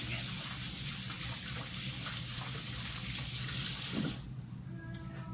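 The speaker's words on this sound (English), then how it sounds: "And wash my hands again." Tap water runs steadily into a sink while hands are washed, a close continuous rushing splash that cuts off near the end, leaving a faint room hum with no talk.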